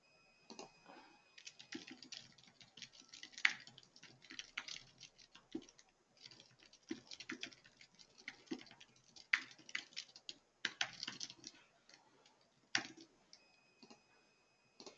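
Someone types steadily on a computer keyboard, with quiet, irregular bursts of key clicks and a few louder keystrokes heard close up. No voices.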